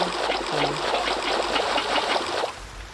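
Water pours from a bucket into a hole in modded Minecraft, a steady close trickling stream that fades out near the end, with a short tonal blip early on.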